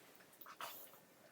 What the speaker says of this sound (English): I love how the dog calls him out at the end of there